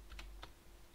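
Computer keyboard typing while renaming a folder, a few quick faint key taps close together, then quiet.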